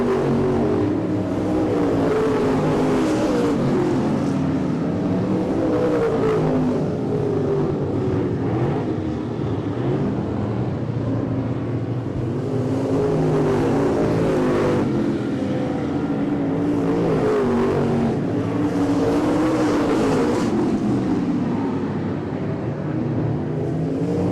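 Late model stock cars race at I-37 Speedway, a dense roar of several engines rising and falling as the pack sweeps by in waves, loud and continuous with no voices.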